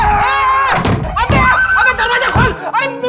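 A door is banged repeatedly in a tense indoor crime-drama scene, with several sharp thuds spread through the moment. Loud, urgent voices talk and shout over the banging.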